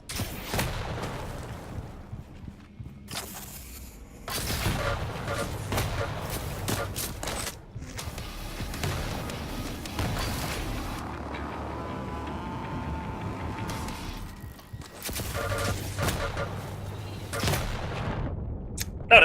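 Rapid game combat in Quake Champions with rocket launcher fire: dense, loud bursts of explosive shots and booms keep coming almost without pause for the whole stretch, with brief gaps and occasional faint voice underneath.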